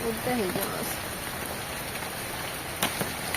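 Rain falls steadily outdoors as a close, dense hiss with a few louder drop hits, and someone speaks briefly over it at the start.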